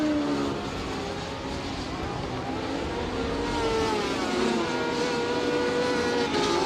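Racing sidecar engines drone steadily at the 2000 Donington Sidecar World Cup as Steve Webster, with Woodhead, pulls away at the front, a continuous distant motor roar with some commentary-like voice mixed in.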